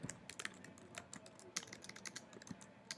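Computer keyboard typing of an essay title, a quick irregular run of key clicks close by and fairly quiet, with a few louder strikes, over a faint background hum.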